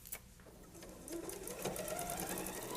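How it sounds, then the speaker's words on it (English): A sewing machine runs steadily while back stitching a teddy bear's nose, its close mechanical whir with rapid needle ticking building slightly and continuing without pause. "And so you're even back stitching."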